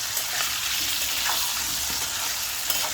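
Potatoes frying in a pan hiss and sizzle steadily while a spatula stirs them now and then with soft scraping knocks, close by and with no voices.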